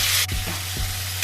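Marinated capsicum and onion sizzle in hot oil in a kadai over a medium flame, a steady close fry hiss with a couple of soft stirring knocks and no voices.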